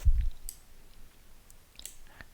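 Two or three quick, faint mouse clicks spaced apart over a quiet background, with a short low thump at the start.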